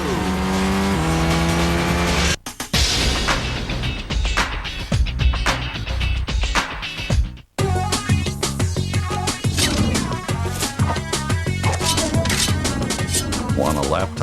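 Race cars in the driving game Toca Race Driver 2 roar past with screeching tire squeals and skids over game music, loud and busy with engines revving and a brief break partway through.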